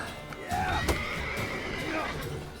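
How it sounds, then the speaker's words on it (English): Horses whinny and neigh in The Witcher 3: Wild Hunt, several shrill calls rising over a busy fight scene with hoof clatter and thumps, loud and close, with voices partly mixed in. "The horses are kicking off."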